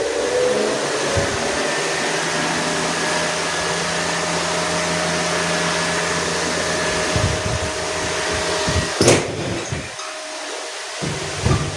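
A household electric fan set up on a hot day runs with a steady, loud whooshing hum throughout, with a few faint clicks and movement noises near the end.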